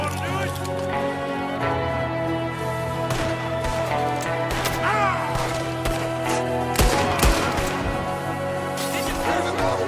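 Gunfire in Red Dead Redemption 2, with sharp shots cracking repeatedly through a dense, loud game mix of music and ambience during a shootout with gunmen at a window.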